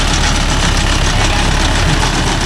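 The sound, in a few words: Mahindra Yuvo Tech Plus 585 DI tractor engine idling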